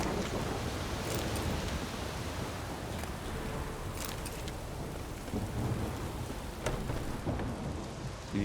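Heavy rain pours steadily during a thunderstorm in The Witcher 3, with rumbling thunder and scattered crackling bursts layered over a dense, continuous wash of rainfall.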